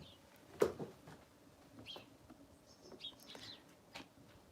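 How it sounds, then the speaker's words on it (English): Outdoor birdsong with a few faint, scattered chirps and tweets, one brief louder burst near the start, over quiet background. "Bit of bird song."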